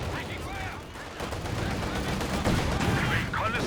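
Rapid machine gun fire in Company of Heroes 2, with a doubled machine gun position in a 1v1 match. The rattling bursts run continuously beneath a busy battle din while a commentator talks over them.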